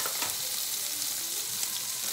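A pork chop sears in a hot pan with garlic and rosemary, giving off a steady, close, bright sizzling hiss with faint crackles.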